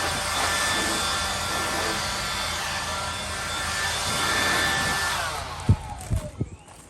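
A strong, steady rush of blown air roars through pieces of PVC pipe to clear them out, holding for several seconds before cutting off, followed by a few hollow knocks of the pipe pieces.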